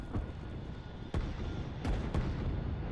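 Surface-to-air missile units firing at bombers in the strategy game Line War: several sharp, booming shots stand out over a steady rumbling battle bed.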